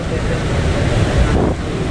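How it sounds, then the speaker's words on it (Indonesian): A river current surges under the roughly 200-metre Rolak Songo bridge, a loud, steady rushing roar mixed with heavy wind buffeting on the microphone. "Kondisi arus sungai saat ini seperti itu"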